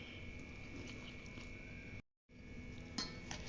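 Andhra mango pickle with sesame oil is stirred in a bowl, giving soft scraping and light clinking of a utensil against the dish, quiet and close, with a brief gap partway through.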